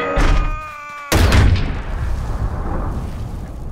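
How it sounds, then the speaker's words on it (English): A sudden loud Boom Cannon blast in Boom Beach after a brief tonal sound, followed by rumbling explosion debris that slowly fades. "Johnson, attack that boom cannon."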